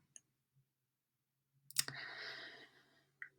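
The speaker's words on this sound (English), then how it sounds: "I'm going to click continue" A few sharp, isolated mouse clicks punctuate near silence as continue is clicked on a web form, with one click followed by a brief soft rustle of breath or movement.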